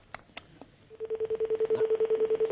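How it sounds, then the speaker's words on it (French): A telephone rings in a rapid, even pulsing burst after a few short knocks, steady and fairly loud with no voices over it. "Sonnerie. Sonne."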